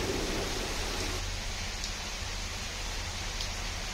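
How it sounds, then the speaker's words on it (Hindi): Heavy rain falling steadily in Kondagaon, a dense, even hiss holding at constant loudness throughout with no distinct thunder crack, no voices. "गरज चमक के साथ जोरदार बारिश हुई है"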